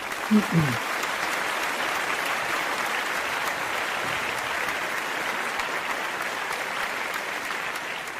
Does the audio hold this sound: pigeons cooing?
no